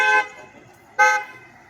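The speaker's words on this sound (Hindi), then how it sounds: "गाड़ी भी चल रही हैं" Two loud, bright car horn honks about a second apart ring out over low road traffic at the Chudamani crossroads on Ayodhya's Bhakti Path, with vehicles moving through the busy junction.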